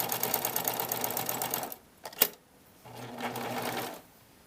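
Sewing machine stitching elastic onto a swimsuit, running in two steady bursts of rapid needle rattle with a short pause and a sharp click between them, close and alone.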